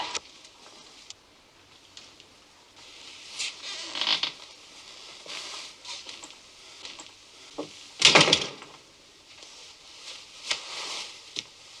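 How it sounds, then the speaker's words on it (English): A door handled in a quiet room: soft rattles and shuffles build to a loud clack around the middle, followed by a few lighter knocks and brushing sounds, with no one speaking. "Open the door, will you?"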